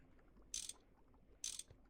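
Two quick ratcheting wrench clicks in Minecraft's Gregtech Modern mod, each a short bright burst about a second apart, with faint background noise.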